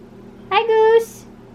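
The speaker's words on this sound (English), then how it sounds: "One of our cats is down here and she's never down here." A house cat named Goose gives a single short, clear meow close by in a quiet room, rising and then breaking into a brief higher squeak.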